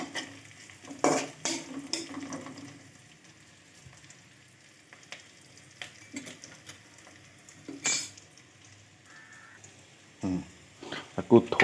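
Sliced onions frying in oil in a pan with a little salt, a soft low sizzle broken by several sharp scrapes and clinks of a spoon stirring against the metal, with brief talk in between.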